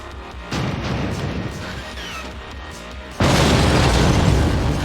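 Bombs going off in the video game Tonight We Riot: a dense, continuous roar of blasts that jumps louder midway, sustained and close with no talk over it.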